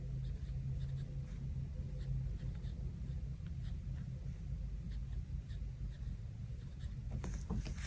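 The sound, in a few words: pen writing in a planner to mark editing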